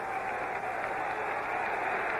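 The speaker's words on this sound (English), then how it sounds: "The crowd comes alive on 2nd and 17." Crowd roar swelling steadily at an NFL game between Dallas and Pittsburgh, a dense, continuous wash of stadium cheering and applause that stays loud and unbroken throughout.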